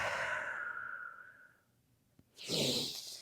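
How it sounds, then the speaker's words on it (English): Breathing during a mobility activation routine: a long soft breath trails off, then after a pause a stronger, breathy inhale or exhale rises near the end, close to the mic with no talk. "And then breathe again."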